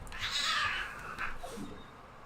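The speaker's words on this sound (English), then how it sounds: "that was a very angry cat" An angry cat lets out a harsh, yowling cry that rises and then breaks into a second, lower growl, heard indoors at moderate distance against a steady background hiss.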